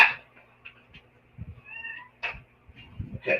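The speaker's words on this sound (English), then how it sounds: "Cat." A domestic cat meows several times, short close calls with small rustles and movement noises between them, no talking.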